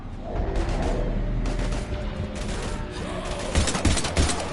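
Mass Effect 3 combat: dense bursts of rapid automatic gunfire and shots crackle loudly and continuously, with heavier booming impacts near the end, all in a chaotic firefight.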